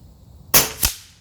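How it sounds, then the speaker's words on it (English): A .25 caliber Avenger air rifle fires a slug at a 100-yard range: one sharp close crack followed by a second, shorter snap from the pellet striking downrange. "Fire a couple shots just to get the gun warmed up here."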